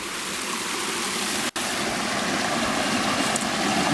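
Rushing water of a waterfall roars steadily and loudly close by, a dense continuous wash with one brief dropout, and no voices.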